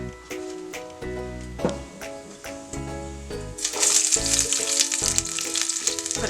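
Peppers frying in hot oil on a home stove for toor dal, a steady sizzle that swells louder and brighter partway through, with no talking.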